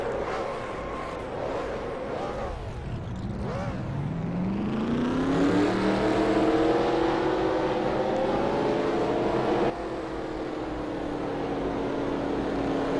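Race car engines rev and climb in pitch as cars leave pit road at a Dyno League race at Jennerstown, a loud, sustained roar that rises steadily, then drops abruptly to a lower drone.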